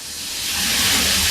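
Half a breadfruit shallow frying in oil gives a loud, broad hiss that swells and holds steady, close and without any talking.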